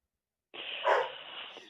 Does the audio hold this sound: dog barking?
yes